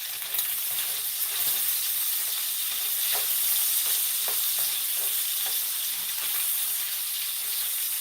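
Bacon sizzles steadily in butter in a pan, a constant bright hiss with scattered small pops and crackles, close and alone without talk.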